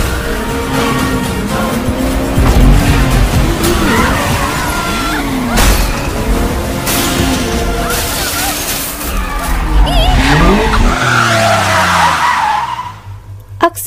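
A car speeds off in a chase with a roaring engine, screeching tires and skidding, sliding passes rising and falling close by, a crash-like thump midway, before the noise cuts out abruptly.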